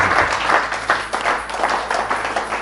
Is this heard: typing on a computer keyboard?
no